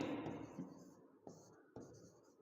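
Marker or chalk writing a line across a board, a soft continuous scratchy stroke followed by two brief sharp taps, close and quiet with no talk.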